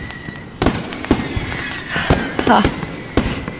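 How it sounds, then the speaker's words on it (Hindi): A fireworks show booms and crackles outside an open window in irregular bursts, with a person talking over the distant explosions. "आपको भी ये आतिशबाजी का शो देखना पसंद है?"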